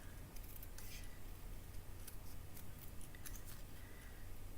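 Scissors snipping through cardstock for a handmade watercolor melon card, a run of quick crisp cuts over steady low room hum with no talking.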